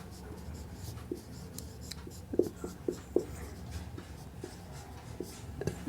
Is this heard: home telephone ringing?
no